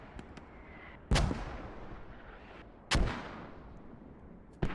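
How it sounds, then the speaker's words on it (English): Russian mortar rounds landing in a multiplayer war video game: three sharp booming impacts spaced a couple of seconds apart, each ringing out and decaying over a steady background hum, with faint distant pops in between. "So that's Russian mortars coming in now."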